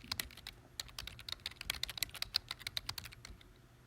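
Brisk typing on a computer keyboard gives a quick, irregular run of sharp key clicks, close and fairly quiet, with no talking.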